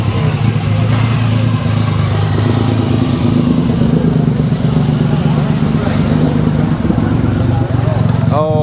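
A Kawasaki W800 motorcycle rides past at a seaside bike night, its engine a loud, steady rumble blending with other motorbikes and crowd chatter throughout.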